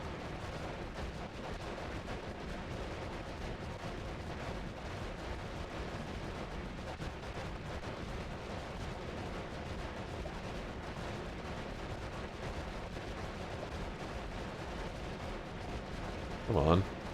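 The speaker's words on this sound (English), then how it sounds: "there's enemies shooting at me" Enemy gunfire from the video game Noita rattles steadily and densely throughout, a continuous wash of shots and blasts with a sharper burst near the end.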